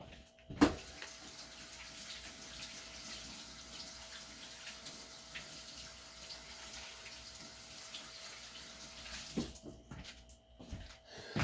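A steady stream of tap water runs over a potato being washed at a sink, a soft continuous splashing that holds evenly for several seconds before stopping and trailing into quiet clatter.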